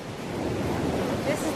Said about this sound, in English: This is the beach.